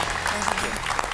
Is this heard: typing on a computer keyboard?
no